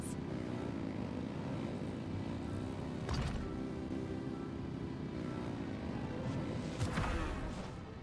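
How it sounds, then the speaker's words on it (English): Engines rev in a video game, a steady droning aircraft-like roar with a propeller character that holds loud and continuous throughout, swelling slightly near the middle and again toward the end. "Rev the engines!"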